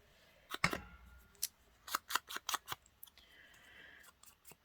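Scissors snipping the end off paper or card during a craft project using Beebeecraft dies and stamps, a string of sharp, close, irregular snips with short gaps, faint and alone.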